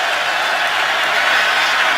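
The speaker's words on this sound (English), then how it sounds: "It's 3rd and 10 with the crowd making some noise here in Baltimore." A football stadium crowd in Baltimore roars in a steady, dense wash of noise, loud and constant throughout with no break.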